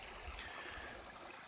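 A river stream running over granite bedrock, with steady broadband rushing and trickling water close by, constant in level across the whole stretch with no voices.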